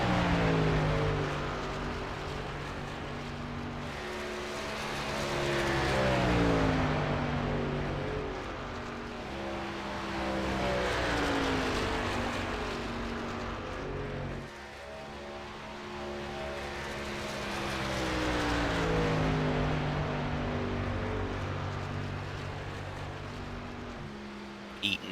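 A race truck laps the track at Michigan, its engine rising and falling in long Doppler sweeps as it passes, steady and moderately loud.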